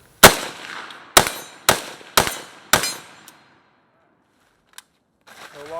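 A Palmetto State Armory AKP rifle fires five sharp, loud shots at uneven intervals, each ringing out outdoors before the gun falls quiet. A faint click follows, then brief talk near the end.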